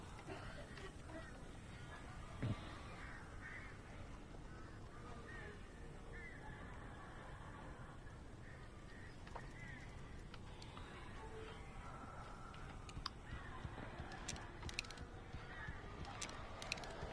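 Crows caw in Alan Wake Remastered, in the Elderwood National Park chapter, with scattered harsh bird calls rising over a dense, steady game ambience throughout.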